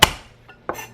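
A HOSHANHO Loong Series chef's knife chops vegetables on a cutting board, giving two sharp knocks about two-thirds of a second apart, close and clear with nothing else heard.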